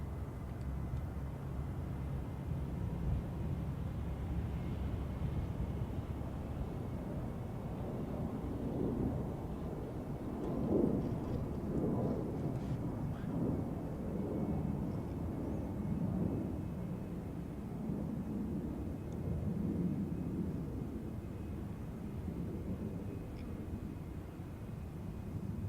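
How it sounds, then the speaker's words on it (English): Avianca airliner taking off from runway 22 left at Chicago O'Hare, a broad steady jet roar heard at a distance that swells slightly through the middle, with no talk over it. "And there's Avianca getting ready to take off. It looks like on 22 left."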